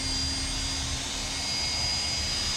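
A spinning wheel tool scours a spring from a 1973 Yamaha AT3, giving a steady, loud, continuous whirring hiss with a high whine running throughout.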